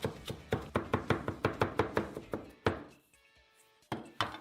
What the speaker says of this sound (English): Finely chop fresh spinach leaves.